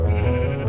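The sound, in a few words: sheep bleating in a video game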